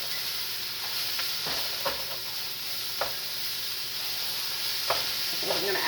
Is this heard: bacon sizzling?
yes